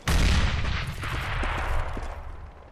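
Grenade blasts in a shooter video game: a loud explosive boom right at the start, then a rumbling tail with scattered gunfire-like cracks fading over a couple of seconds.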